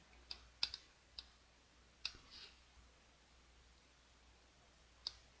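A computer mouse clicking while a font is chosen in Photoshop, a handful of faint, sharp, close clicks at irregular spacing, some in quick pairs, over near silence.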